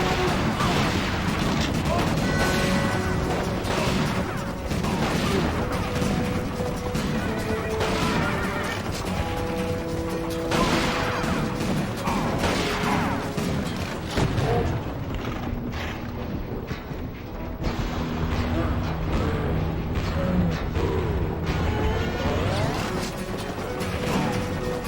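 Shotgun blasts in a video game, a series of loud booms and crashes over a busy, dense layer of game music and effects, with talk mixed in.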